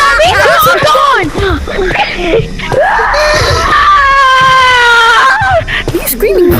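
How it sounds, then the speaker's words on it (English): A person shrieks in fright while playing the VR game Apeshift, with loud, wavering screams and whimpers rising and falling over several seconds, mixed with other excited voices. "What are you screaming for?"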